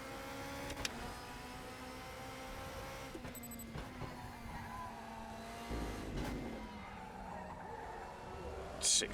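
GT1/GT2 race car engine at Imola in Raceroom, a steady sustained drone with shifting pitch, a brief rougher burst midway and a quick gear change near the end, moderately quiet.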